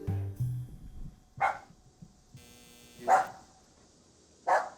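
A dog barking in three separate loud, sharp barks spaced a second or more apart, close by, with quiet gaps and faint low sounds between them.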